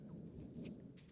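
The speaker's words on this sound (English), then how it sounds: "It's the thunder." Distant thunder rolls as a low, continuous rumble under steady falling rain, faint and far off throughout.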